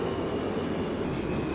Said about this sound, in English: So I am currently running my train